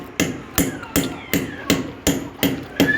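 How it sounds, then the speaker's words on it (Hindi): A hammer strikes cement packed into a fitting for gas line work, seven sharp, evenly spaced blows landing about every half second, close and loud with no talk. "सही तरीके से हथौड़े की मदद से इसको हम ऐसे करके ऐसे ठोक देंगे"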